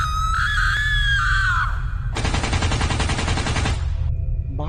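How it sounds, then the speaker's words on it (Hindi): Kamla, a cartoon character in a Free Fire cartoon, screams shrilly and wildly, followed by a long burst of rapid machine-gun fire, then a brief sharp cry at the end. "कमला वहां पर आती है और पागल की तरह चीखने चिल्लाने लगती है।"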